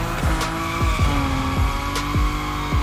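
Nissan Nismo drifting in the racing game The Crew Motorfest: a loud, steady engine roar with repeated sliding tire squeals and skids, each swooping squeal returning every half second or so, continuous with no talking.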